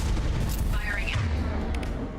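Weapon fire in the video game Mass Effect 2 gives a short boom, then a brief rising zap-like burst, heard over a steady muffled rumble of game noise.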